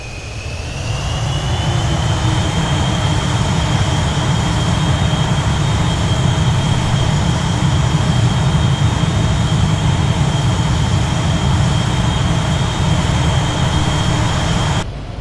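An Avro Vulcan's jet engines roar at low level in X-Plane 11, a loud, sustained, steady rush with a high whine laid over deep rumble, unbroken for the whole stretch and free of talk.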